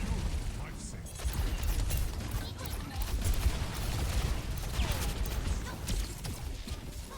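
Gunfire and clattering mechanical action from an esports video game match, dense and continuous, with a caster's voice faintly mixed underneath.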